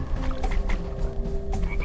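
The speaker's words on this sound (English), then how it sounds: "Death to the frog that jumps so loudly." A frog croaks in the video game A Boy and His Blob, with a short run of close, fairly loud croaks over a low background bed.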